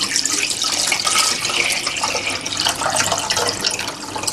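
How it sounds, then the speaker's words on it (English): Water from a tap pours steadily into a medium-sized cooking pot, a loud, continuous splashing rush that goes on unbroken with no talking over it. "Okay, you put some water into this pot."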